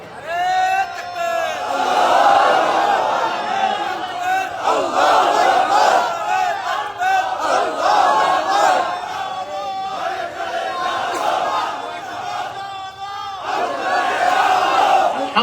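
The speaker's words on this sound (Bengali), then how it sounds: "তাকবীর, তাকবীর, তাকবীর। চলুক না 5 মিনিট তাকবীর নিয়ে" A large crowd at a religious sermon chants takbir in unison, loud, roaring repeated calls that swell and fall in waves over about fifteen seconds, with a leading voice calling and the mass answering.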